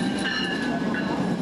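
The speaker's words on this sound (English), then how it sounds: "The Amtrak train to Chicago stops here 3 times a day." An Amtrak train to Chicago at Galesburg, Illinois, rolling close by with a loud steady rumble and a high metallic wheel squeal above it.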